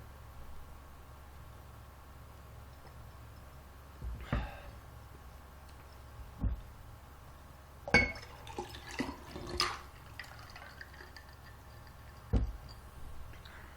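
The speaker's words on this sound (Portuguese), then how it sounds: "Deixa eu tomar um golinho d'água" Someone takes a small sip of water from a glass in a quiet room: a few faint clinks and a brief cluster of soft liquid and swallowing sounds, scattered across near-silence.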